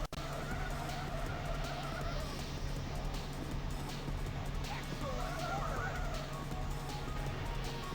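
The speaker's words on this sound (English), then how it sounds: "I love pulling off that drift" Car drifting with tire skid in Ridge Racer 64, a steady engine roar with squealing tire screeches rising and falling over it, continuous and fairly loud.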